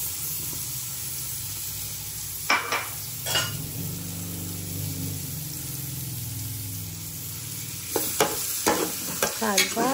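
Two heads of garlic fry in melting butter in a hot pan, sizzling steadily and close, while a spoon stirs and scrapes with occasional clinks of metal against the pan.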